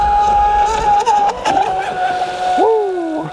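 A Pro Boat Super Sonicwake RC boat tears across a lake at speed, its electric motor a steady high whine that bends in pitch as it turns, up close and loud with light water hiss.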